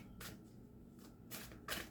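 Tarot cards being shuffled while swapping decks, three short papery riffling bursts close by and fairly soft, with no talking.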